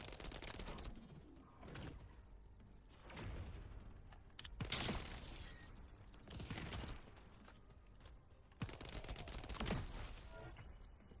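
Shotgun fire in The First Descendant video game: several sharp, loud blasts spaced a few seconds apart, heard against game background noise with no one speaking.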